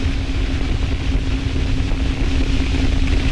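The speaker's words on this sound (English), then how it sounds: "ignition, and liftoff. Go Falcon, go 124." SpaceX Falcon 9 rocket engines at liftoff for the USSF-124 mission, a steady, dense, loud roar with deep low rumble and broadband hiss, continuous and unbroken throughout, heard from a distance without any voices.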